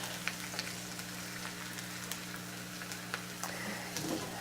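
Onions, peppers and mushrooms frying in a hot stir-fry pan, a steady close sizzle with scattered light crackles and pops under a low, constant hum.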